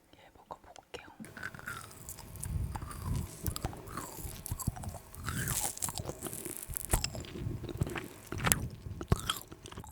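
Frozen soft cube jellies bitten and chewed up close in repeated crisp crunches and squishy chews, with soft whispery breaths between bites.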